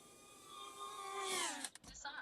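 A GEPRC Darkstar 22 FPV drone comes in to land, its faint motor whine sliding down in pitch as it slows, followed by a few soft thumps as it touches down.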